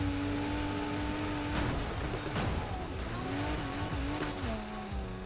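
A car speeds up on a track, with a sustained engine tone that shifts pitch and bursts of tire noise, steady and close throughout.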